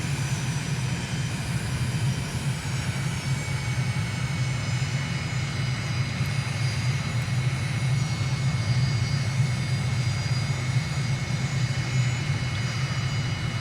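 Airliner engines humming steadily during a landing approach with flaps down in Microsoft Flight Simulator, a constant low drone with a faint high whine, no talk over it.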